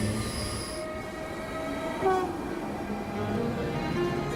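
A commuter train in Denmark rumbles along steadily, with a low rolling drone, faint high wheel squeals and brief tonal whines rising over the continuous noise of the moving carriages.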